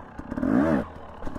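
Husqvarna TE motorcycle engine blipping off idle, a single quick rev that rises and falls within about half a second over a clattery idle.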